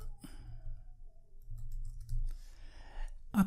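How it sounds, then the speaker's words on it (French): A single sharp computer mouse click near the end, close and crisp, after a few faint softer clicks over a quiet low hum. "Après, je clique sur OK."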